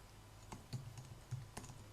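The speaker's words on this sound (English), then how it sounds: "I'm typing my password." Password keys tapped on a computer keyboard, a few quiet, spaced clicks at close range over a soft background hum.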